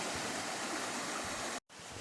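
Creek water rushing steadily at a rocky hiking-trail crossing in East Tennessee, a dense close hiss that cuts out for a brief instant near the end, then resumes.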